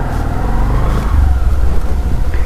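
A Bajaj CT 110X motorcycle rides with a loud, steady engine drone and low rumble close to the listener, its pitch shifting slightly as it moves along, with no talking.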